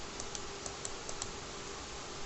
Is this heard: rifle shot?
no